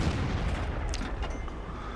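A dense, continuous rumble of tank cannon fire and battle noise from a tank video game, loud low booms blending into a steady roar with faint higher crackles on top, no voices.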